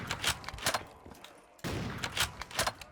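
Sniper rifle shots crack out in a Minecraft survival game, several sharp reports in quick succession with a brief lull between bursts, no talking.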